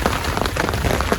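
Rain pours steadily onto a Bassic Antares 4 camping tent, a dense, even hiss of drops drumming on the fabric with no break through the short stretch.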